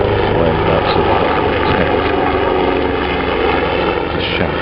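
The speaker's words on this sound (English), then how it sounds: "It's a shout over the helicopter that's just gone across" A helicopter passing over a cricket ground during a county championship match between Sussex and Derbyshire, a loud steady rotor drone with a continuous engine roar and no talk.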